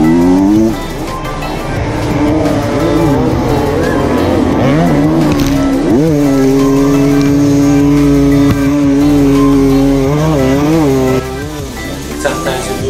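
Enduro motorcycle at full throttle during the Erzberg Rodeo race, engine loud and close, revving and surging up and down in pitch with shifting gears throughout.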